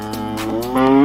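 Texas Longhorn cattle mooing up close: one long, deep, drawn-out moo that swells and grows louder toward its end, with no talking over it.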